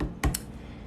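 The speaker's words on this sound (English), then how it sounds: "as I'm shuffling, I want to share this for somebody" Tarot cards being shuffled, heard as two quick soft riffles in close succession, the first slightly louder, followed by quiet room tone.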